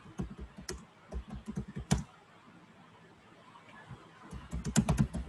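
Typing on a computer keyboard while a Puppet manifest file is written, with bursts of clicky keystrokes, a quieter pause in the middle, then a fresh run of taps near the end.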